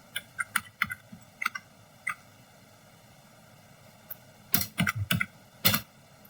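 Typing a command on a computer keyboard: sparse, crisp key clicks close by, a few isolated taps at first, then a quick burst of several keystrokes near the end, over a quiet background hum.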